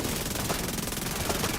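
Rapid automatic gunfire in the video game The Division 2 rattles on continuously in a dense, loud burst with no pauses.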